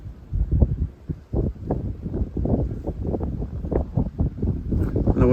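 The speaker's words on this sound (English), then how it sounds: "It's cold, you can hear the wind" Gusty wind buffets the microphone on a cold mountain hiking trail, a low rumbling roar that rises and falls in uneven bursts, loud and close.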